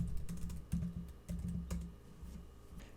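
Fingers typing a prompt on a computer keyboard, a steady run of soft, close key clicks with uneven rhythm and a few heavier taps, no voices.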